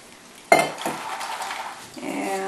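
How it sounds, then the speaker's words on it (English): Canned soybeans are drained in a kitchen, starting with a sharp clatter of a can or utensil against a dish, then a steady rushing pour of liquid that continues to the end, close and fairly loud. "Now our first step is to drain the liquid off of our soybeans"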